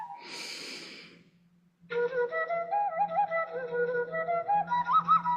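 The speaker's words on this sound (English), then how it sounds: "One last time, take a deep breath" A slow deep breath, one long airy inhale or exhale lasting about a second during a meditation session, close and clear, followed by soft tonal music with a steady drone.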